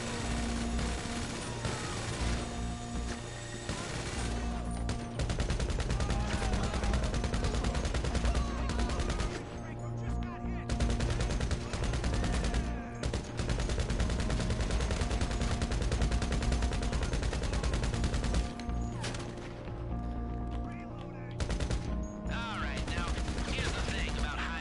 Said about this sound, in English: I might as well use up these 134 rounds that I got left in this.